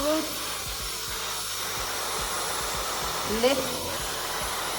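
A hair dryer fitted with a diffuser runs steadily while drying the roots of frizzy hair, a continuous airy whir holding throughout with a voice talking over it.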